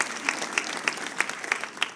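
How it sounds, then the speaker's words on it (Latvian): An audience at a Fuck Up Nights Riga event claps in steady applause, a dense wash of hands with a few sharper claps standing out at a regular pace throughout. "Aplausim mums!"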